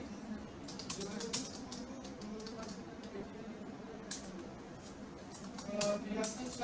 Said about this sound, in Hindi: जैसे इसमें मैं टाइप कर देता हूँ